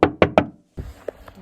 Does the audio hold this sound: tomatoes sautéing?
no